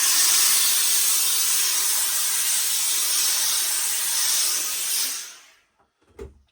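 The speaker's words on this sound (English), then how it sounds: "I'm going to put a bit of steam on it, and then that will lift the pile" Steam hisses steadily onto the nap of a fine fur felt trilby hat, a broad close rush that fades out, followed by a couple of faint knocks.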